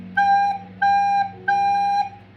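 A recorder plays the note G three times, each a steady held tone of about half a second with short gaps between, clear and close.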